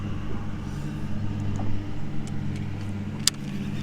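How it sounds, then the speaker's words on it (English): Steady low engine drone of a lawn mower cutting grass near Lake Murray, a continuous distant rumble throughout with a brief sharp click near the end. "That man up there cutting grass."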